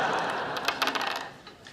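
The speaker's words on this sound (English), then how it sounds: "I've decided to make all trivial decisions with a throw of the dice" Dungeons and Dragons dice thrown onto a surface, a quick scatter of light clicking and rattling bounces that fades out, close and fairly quiet with no talk.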